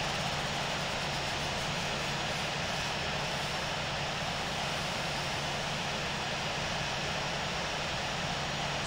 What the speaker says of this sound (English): You see the right engine is spooling up now.